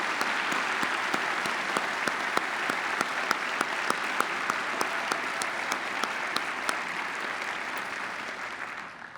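An audience applauds graduates at a commencement ceremony, with steady sustained clapping from a large crowd throughout, even and fairly loud, and a few sharper individual claps standing out.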